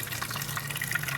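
Water poured steadily into a cooking pot for boiling balut duck eggs, a continuous close gushing fill with no talk.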